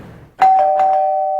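A doorbell rings once with a sharp onset, then a steady sustained electronic chime tone holds to the end under faint repeated ding pulses, loud and close.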